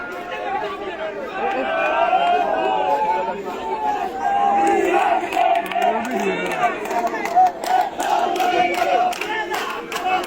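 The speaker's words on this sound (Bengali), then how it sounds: "এখানে স্লোগান দেওয়া হয়েছে যখন আব্দুল হান্নান মাসুদের প্রতি অ্যাটাক করা হয়" A large crowd shouts slogans and battle cries during an attack on Abdul Hannan Masud, many voices chanting loudly over one another with agitated chatter and movement.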